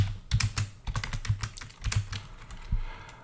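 Rapid keystrokes on a computer keyboard while Python code is typed, an uneven run of close, crisp clicks and taps with no talking.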